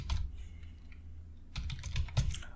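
Close keyboard typing while Python code is written, clattering in quick clusters of keystrokes with brief pauses in between, and no voice heard.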